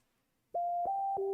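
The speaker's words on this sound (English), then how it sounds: "we can hear the Nokia ringtone playing" Starting after a half-second of near silence, a Nokia ringtone plays in a war footage clip as clear electronic beeping tones, each note rising a little higher, loud and close.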